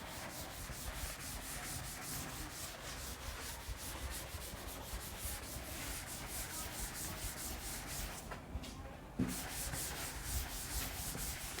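Writing is rubbed off a board with steady, rapid back-and-forth scrubbing strokes, close and continuous, with a brief pause near the end before the rubbing resumes.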